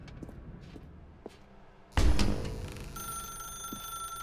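In The Stanley Parable, a telephone suddenly starts ringing loudly after a quiet stretch with a few faint ticks, the bright electronic ring continuing steadily to the end.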